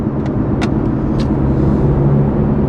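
BMW G30 530i four-cylinder with an aftermarket valved exhaust, valves closed, heard from inside the cabin as a steady, subdued engine drone with a few faint higher clicks, no talking.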